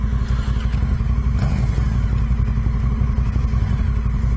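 Dirt bike motorcycle engine running steadily close by on a desert trip, a continuous low rumble with faint clatter and no clear revs, no voices.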